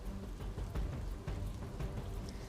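Heavy, steady rain pours down over a flooded market street in Godhra, Gujarat, a dense continuous hiss with patters and splashes, no voices.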